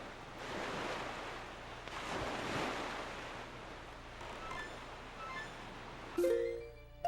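Ocean surf and steady wind rush while sailing across open sea in The Legend of Zelda: The Wind Waker, a continuous wash of waves that swells and eases. A few bright tonal blips appear near the end.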